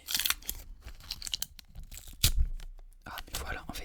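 Crinkly tearing of a Panini sticker packet, recorded close for ASMR, with ripping and crumpling bursts spread throughout and a soft voice murmuring in between.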